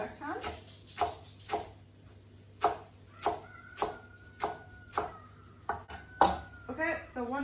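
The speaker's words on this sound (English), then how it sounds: "So this wants to be minced, it says, so I'm just getting that chopped as fine as I can." A knife mincing cilantro stems finely on a board for fermented salsa, a steady run of about a dozen crisp, close chops with a faint ringing tone in between.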